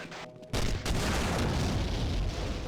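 Rocket launcher explosions in Half-Life, a sudden loud booming blast that breaks in after a brief lull, followed by a sustained rumbling, crackling roar of further explosions and gunfire up close.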